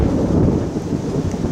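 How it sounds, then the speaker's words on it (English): A deep, loud thunder rumble rolls almost directly overhead during a summer thunderstorm, dense and continuous for a moment, with no voices. "lightning and thunder"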